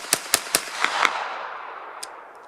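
A semi-automatic 9mm Schmeiser rifle fires five sharp, fairly close shots in quick succession. A decaying outdoor echo follows, and a final fainter crack closes the burst.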